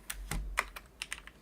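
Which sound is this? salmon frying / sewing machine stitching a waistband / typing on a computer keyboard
typing on a computer keyboard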